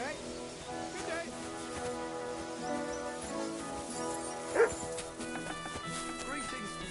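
A dog in the video game Kingdom Come: Deliverance 2 gives a short yip and bark over a busy in-game bed of ambience and music, with voices talking around it.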